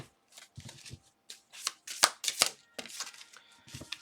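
Tarot cards shuffled by hand for a card reading, a series of quick papery riffles and flutters in irregular bursts, close and fairly soft, with no talking.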